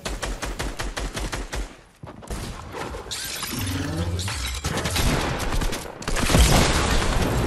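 Rocket launcher blasts and explosions in Fortnite, a dense run of loud bursts and crackling debris with a brief drop near the middle, then heavy rumbling booms that carry through to the end.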